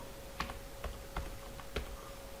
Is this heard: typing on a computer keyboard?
yes